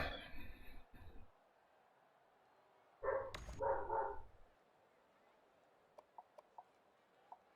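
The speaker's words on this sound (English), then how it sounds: "my dogs are going to bark" Dogs barking in a short burst of a few barks around the middle, fairly close and loud, with faint talk at the start and a few soft clicks afterward.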